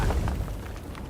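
A grenade blows out a breakable wall in the fantasy video game Avowed. It lands as one loud, close explosion whose deep rumble decays quickly, with no talking.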